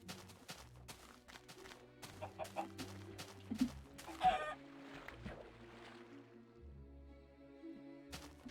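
Blocky video-game chickens cluck from inside a chicken trap, a string of short, close clucks and squawks scattered irregularly over a low, steady background hum, with no talking.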